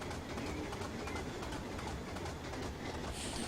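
A Class 25 diesel locomotive runs along the Western Lines of Scotland in Train Simulator 2015, a steady low rumble with rhythmic wheel clatter throughout, moderately quiet and unbroken by talk.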